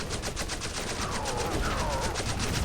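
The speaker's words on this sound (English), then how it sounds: "As the Lancers are shooting at the Chinook" Rapid automatic gunfire from Lancer units firing on a Chinook helicopter in the strategy game C&C Generals: Contra, a dense, steady stream of shots with other battle noise mixed in.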